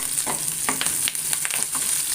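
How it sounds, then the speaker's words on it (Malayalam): Chopped onion and curry leaves sautéing in a pan, a close, steady sizzle with quick crackling bursts and stirring scrapes. "ചെറിയൊരു കഷ്ണം സവാള അരിഞ്ഞതും കൂടി ഒന്ന് വഴറ്റും"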